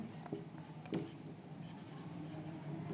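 A black marker squeaks and scratches across a board in short strokes and dabs, fairly close, with a voice talking faintly in the background.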